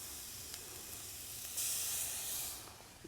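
Garlic simmering in a pan for oyster étouffée, giving a steady close hiss and sizzle that swells briefly louder midway, with no voices.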